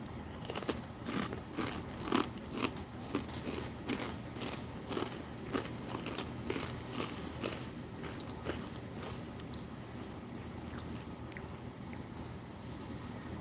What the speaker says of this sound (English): I'm going to go ahead and nibble on this, see how this apple butter tastes on this crisp bread